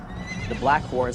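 A black horse gives a short whinny with rising and falling calls, moderately loud and close, with a rumbling background and a hint of a voice mixed in.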